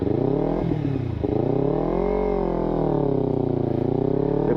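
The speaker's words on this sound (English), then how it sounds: "This is a used bike, 2015 Ninja 300." Engine of a used 2015 Kawasaki Ninja 300 motorcycle with 2,600 miles on it, revving up and down in steady rising and falling sweeps under a continuous loud drone, with a brief dip near the start.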